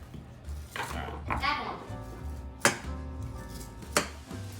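A kitchen knife cuts through a frozen block of taco soup ingredient in a home kitchen, making a few sharp, close chopping knocks against a board while a person talks over them.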